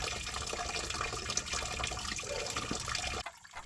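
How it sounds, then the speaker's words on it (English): Coolant drains from a Chevy Silverado's cooling system into a catch basin, making a steady, close rushing pour that runs unbroken for several seconds before cutting off abruptly. "My coolant just drained and drained and drained."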